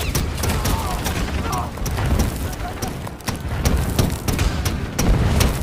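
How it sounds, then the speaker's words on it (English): An anti-aircraft gun fires during a massacre scene in a war film, with rapid, steady bursts of shots under a dense, loud battle mix while a voice narrates over it. "Then an anti-aircraft gun is set up for the massacre."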